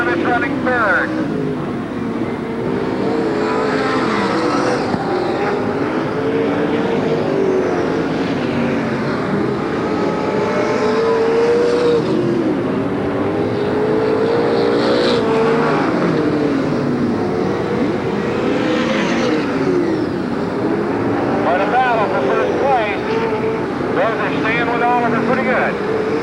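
Sprint cars and late models race around the Marysville dirt track, a steady loud engine roar rising and falling as cars pass, with an announcer talking over it throughout.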